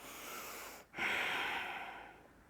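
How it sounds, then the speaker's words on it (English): A single deep breath taken during a yoga session, a quiet close exhale-like rush of air after a brief pause, fading slowly over a couple of seconds with no talking. "Taking a breath here."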